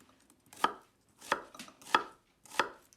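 A kitchen knife slicing an onion on a board, four crisp, close chops at an unhurried pace with quiet gaps and no talking.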